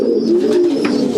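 Pigeons in a racing loft coo in low, throaty, rolling calls that run continuously and close up, with faint scuffling in the background and no speech.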